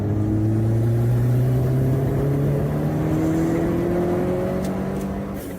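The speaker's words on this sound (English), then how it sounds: "So I'm just going to do third gear power run." Vauxhall Nova GTE with a 2.0 turbo engine accelerating hard through third gear on a power run, a loud, steady engine drone climbing smoothly in pitch throughout, close by with no talking.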